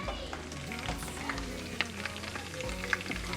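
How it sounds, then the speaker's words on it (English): Chorizo sizzling in oil in a pan for breakfast burritos, a steady close crackle with scattered sharp pops and spits over a low hum, with no talking. "this is the chorito that we're frying in some oil"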